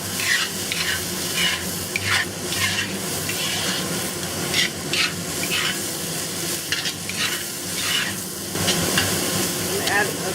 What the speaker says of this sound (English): And we'll stir fry this for about a minute.